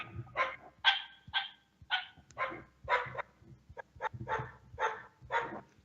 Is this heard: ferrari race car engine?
no